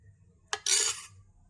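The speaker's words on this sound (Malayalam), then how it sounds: "ഇനി നമുക്കിത് നെയ്യ് തടവിയ ഇഡ്ഡലി തട്ടിലേക്ക് ഒഴിച്ചു കൊടുക്കാം." A ladle knocks against a ghee-greased idli plate with a sharp clink, followed by a brief wet rush as egg-milk batter pours in, close and fairly loud over a low hum.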